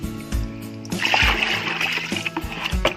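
Water poured from a bucket into rice-washing water for liquid organic fertilizer and mixed by hand, giving a continuous close splashing and sloshing with a few sharper splatters, no talk over it.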